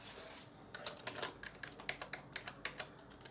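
Someone types on a computer keyboard in a quick run of close, crisp keystrokes, starting after a brief pause and continuing in an uneven rhythm.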